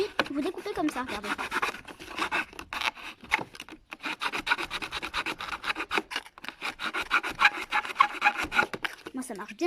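Scissors cutting a hole in a cardboard box, a rapid run of rough rasping snips and scrapes, close and continuous, with someone speaking briefly at the start.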